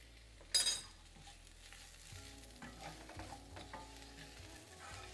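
Leeks with a sprinkling of salt fry in a tablespoon of chili oil for a dal tadka, a gentle sizzle under stirring and scraping in the pan, opening with a sharp burst as they hit the hot oil.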